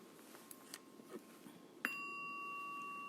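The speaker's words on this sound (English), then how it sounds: "I just give us a chime so that we know" A meditation chime rung to open a breathing meditation: a single clear bright strike near the end that rings on with a sustained tone, after quiet room noise with a few faint taps.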